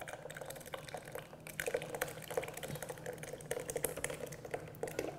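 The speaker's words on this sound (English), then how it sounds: "You just pour the cooled ingredients right inside." Cooled ice cream mixture is poured into a Cuisinart 1.5-litre ice cream maker, a soft, close trickle broken by small splashes and light clicks, fairly quiet.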